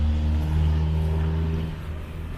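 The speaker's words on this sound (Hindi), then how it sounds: "और ये देखिए गाड़ी, अरे यार एक ज़बरदस्त गाड़ी, अभी कौन सी गाड़ी पता नहीं, होंडा की है" A Honda Insight hybrid car engine runs close by on a Sri Lankan road, giving a steady, loud mid-pitched hum with a low drone that eases off slightly toward the end.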